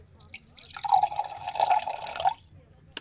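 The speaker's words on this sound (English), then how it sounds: "Just a little bit of water. I'm actually going to put this into my little cup here so I can dip my brush" A small amount of water trickles into a little cup for dipping a paint brush, a close, soft pour lasting about a second and a half with faint drips around it.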